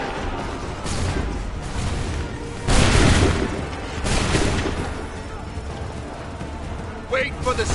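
Musket volleys boom in Assassin's Creed 3, a few loud bursts spaced a couple of seconds apart amid battlefield noise, with shouted voices mixed in.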